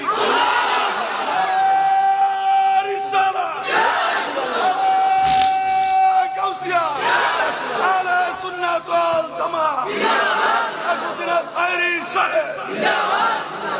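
A large crowd at a religious gathering roars a chant of takbir, answering Allahu Akbar in loud repeated waves of massed voices, with a leader's amplified voice between the responses.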